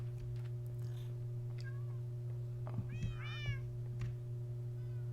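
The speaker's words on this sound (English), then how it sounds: "I have a fuck ton of cats here." Several cats meow in a Minecraft village, a few short rising-falling calls spaced apart over a steady low hum, moderately near and fairly quiet, with no one talking.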